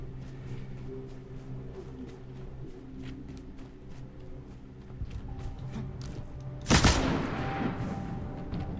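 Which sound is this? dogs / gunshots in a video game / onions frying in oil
gunshots in a video game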